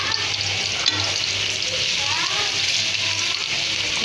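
Beef with whole black peppercorns, mace and green cardamom fries in a pot while a spoon stirs it steadily, a constant loud sizzle with faint scraping underneath.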